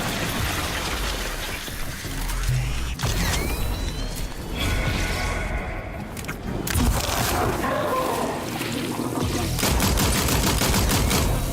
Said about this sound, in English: I should honestly just prioritize all my shooting right into the Rat King